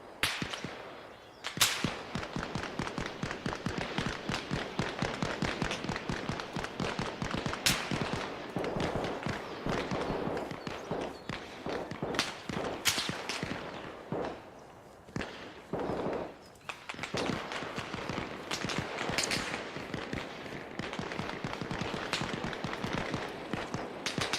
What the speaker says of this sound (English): They're shooting my direction.